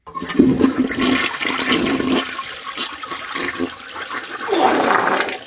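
A toilet flushes close up with a loud rushing gush of water that swirls and drains, then surges again near the end, with no voices.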